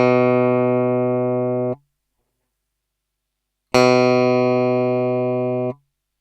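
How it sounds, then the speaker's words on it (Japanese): Two sustained guitar notes on standard frets, the first fretted with a finger and the second pressed with metal, each ringing about two seconds with rich harmonics before being cut off, separated by silence; the second has a brighter, sharper attack. "普通のフレットを指で押さえた時と、普通のフレットを 金属で押さえた時の音の違いを聞いてみましょう"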